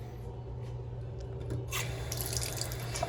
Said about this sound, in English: But this sink has the really cool waterfall nozzle and good water pressure.